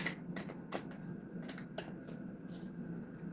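Cards are shuffled nearby in quiet, repeated riffling bursts, about six short flurries spaced at an irregular rhythm over low background hiss.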